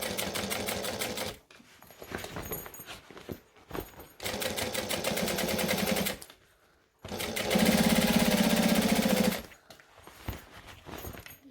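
A sewing machine stitches fabric while a buckle strap is sewn, in three bursts of rapid mechanical rattling separated by short pauses, close and fairly loud.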